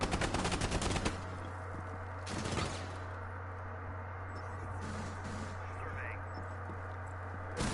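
Gunfire in Valorant fired through walls: a dense, rapid automatic burst for about a second, then a shorter burst, over a steady low hum with quieter shots trailing after.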